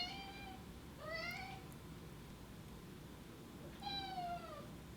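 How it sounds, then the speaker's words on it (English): A hungry cat meowing for her dinner indoors, three clear drawn-out meows spaced a few seconds apart over a quiet room hum, fairly close and moderately loud. "Do you hear this cat right now? She wants her dinner."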